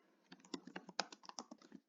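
Quick, uneven clicks of keys on a computer keyboard as keywords are typed, close and crisp, around a dozen and a half strokes before stopping.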